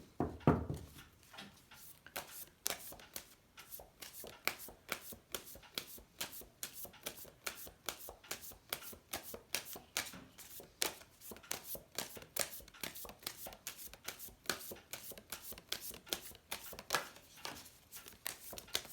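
A Nature's Whispers Oracle deck being shuffled by hand: a long, steady run of quick, crisp card riffles and soft slaps, close and continuous for nearly twenty seconds, with no talking.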